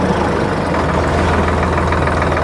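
A Preet 6049 tractor engine runs steadily at close range, a loud continuous low diesel throb with a fast regular pulsing beat and no pauses.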